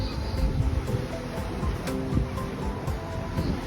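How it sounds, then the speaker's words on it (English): Surf washing against the rocky shore of a coastal walk from Lelant to St Ives, a steady broadband roar with repeated wave surges and some wind buffeting, loud and continuous without speech. "I'm going to be dodging waves, I think, crashing up against here"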